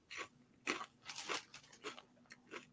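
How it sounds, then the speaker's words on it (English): Food crunches right into a microphone: several sharp, close bites and chews in an irregular rhythm, fairly quiet, with no talking. "I'm crunching into the microphone"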